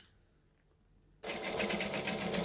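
Sewing machine running a 1/8 inch seam, starting abruptly after a quiet moment and then whirring steadily and loudly at close range with a fast, even stitching rhythm.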